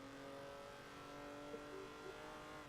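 A race car's engine in Forza Motorsport 7, held at full throttle, drones at a steady high pitch throughout, a constant sustained roar with no voice over it.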